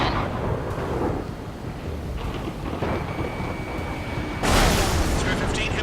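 In the Ace Combat 7 flight game, a low rolling rumble of thunder and storm noise builds behind radio chatter, then a sudden loud crack of thunder bursts from a lightning strike and rumbles on.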